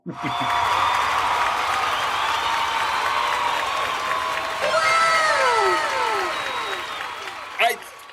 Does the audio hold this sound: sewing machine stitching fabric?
no